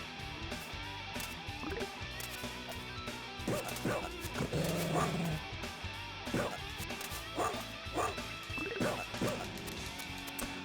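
Barking from a dog in the 1993 Sega CD game Spider-Man vs The Kingpin, several short yips and bow-wows over game music and hit effects, with someone talking now and then.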